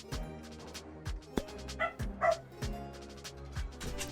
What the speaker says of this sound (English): the dog burst in my room to let me know that he was unhappy with the children being outside